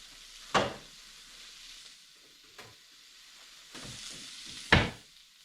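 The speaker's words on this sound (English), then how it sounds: "Got a little breakfast cooking up here. Anybody else use bacon grease for their eggs?" Eggs cooked in bacon grease and little smoky sausages fry in a pan with a low steady sizzle, broken by a few sharp spatula scrapes and clatters, close and fairly quiet, without speech.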